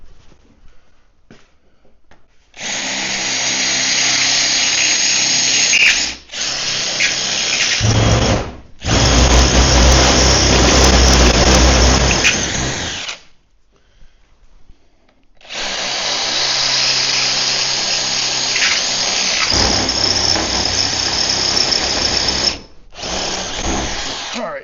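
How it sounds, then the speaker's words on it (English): Drill bits bore holes for a bolt and a rivet nut during a powder coating oven build. A power drill whines loudly and close in several long bursts, with short pauses between them and one long silent gap in the middle. "So the second drill bit I'm using is the same width as the bolt"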